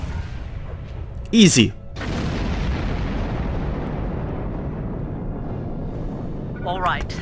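Starship weapon fire and an exploding target in the Star Trek Online space game: a short sharp burst, then a long loud rumbling roar of the blast that holds steady for several seconds, with a brief spoken word.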